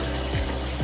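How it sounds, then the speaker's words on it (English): Tap water runs steadily while hands are being washed, a close, continuous rushing stream with slight splashing shifts and no voices. "Washing my hands."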